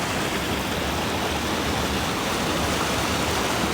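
A California river rushes steadily with a dense, loud, unbroken roar of white water close by, with no voices.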